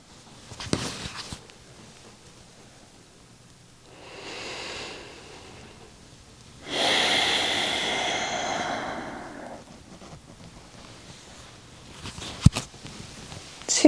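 Slow belly breathing during a guided breathing exercise, a soft inhale followed by a longer, louder airy exhale, close and unhurried with quiet room noise between breaths.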